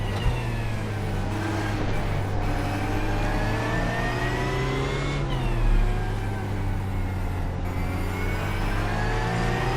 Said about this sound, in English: Here is the Porsche 911 GT3 in good glory.